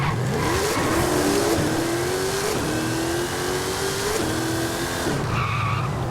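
A Jeep Trackhawk in Forza Horizon 5 launches from a standstill, its engine revving loudly through a series of rising gear pulls while the tyres squeal steadily throughout, with a brief lift near the end.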